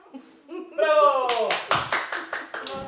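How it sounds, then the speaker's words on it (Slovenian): Small hands clapping about seven times in a fairly even rhythm after a voice speaks at first, sharp and close in a home setting. "Zaploskaj, zaploskaj."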